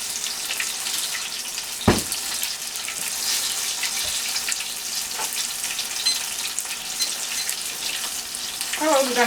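Homemade onion rings fry in oil that may be too hot, giving a steady, dense sizzle and crackle with occasional sharper pops and clinks of stirring or handling.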